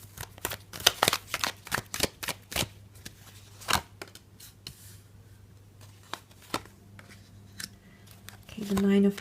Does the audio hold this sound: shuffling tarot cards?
yes